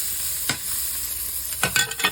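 Turkey and sun-dried tomatoes frying in a pot, stirred with a few scraping strokes over a steady sizzle, close up and without talk.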